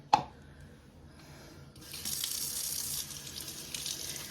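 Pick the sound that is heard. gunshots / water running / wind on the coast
water running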